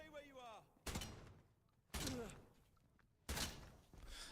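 Three loud, sharp gunshots from the Atomfall video game, spaced about a second apart, each ringing out briefly, with a voice speaking quietly before the first shot.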